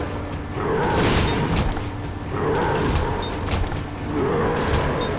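A Mega Blast beam fires in The Binding of Isaac: Afterbirth+, a loud, sustained roaring blast that surges and swells in three long waves, alone with no talk.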